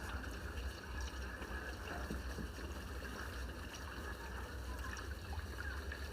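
Cracked salted eggs being washed in water, a soft steady trickle and slosh of running water, faint and continuous with no talk.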